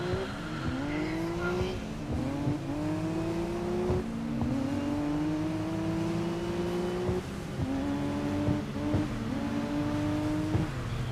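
Race car engines howling in a snowy GRID Legends touring race, several cars bunched together with repeated rising revs and gear shifts, loud and continuous with no talking.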